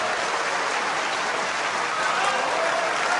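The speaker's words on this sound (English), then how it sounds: "Did Ali Carter and his mum and dad and brother Jack just applaud that wonderful clearance from Judd Trump" A snooker audience applauds a clearance at the 2012 World Championship, with sustained, dense clapping that holds steady and loud for several seconds without voices.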